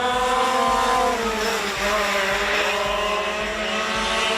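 Racing karts speed past and slide through a turn at the Forks Karting Speedway, several small engines buzzing loudly and continuously with shifting pitch as they lap close by.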